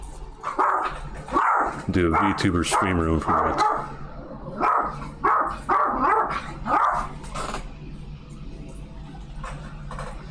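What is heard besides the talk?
dog barking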